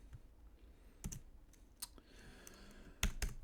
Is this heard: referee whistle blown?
no